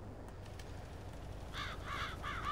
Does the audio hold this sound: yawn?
no